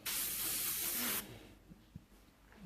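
An airbrush sprays paint in a steady, bright hiss lasting about a second, then cuts off, leaving faint handling clicks and quiet room tone.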